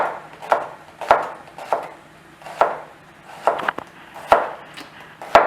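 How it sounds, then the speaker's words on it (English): Shallots sliced thin with a knife from the root end on a cutting board, a series of about ten crisp knife chops at an uneven steady pace, close and clear with no talk. "we're going to take our shallots, and from the root end we're just going to slice them thin"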